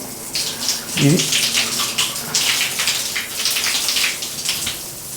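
Water rushes from a bathroom shower fitting during plumbing work, a steady splashing spray close by and fairly loud, with a brief voice near the start.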